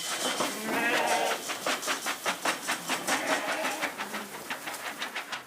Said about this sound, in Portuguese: O rebanho tem 30 ovelhas e um cordeiro.